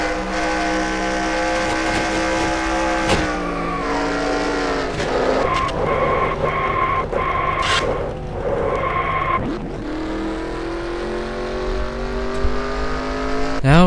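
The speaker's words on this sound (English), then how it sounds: "a huge crash here during stops at Michigan in the NASCAR Xfinity Series" Loud NR2003 NASCAR Xfinity race cars at Michigan, steady engine roar with tire squeal and skidding as a car slams into the wall, harsh crunching impacts midway, then the engines carry on.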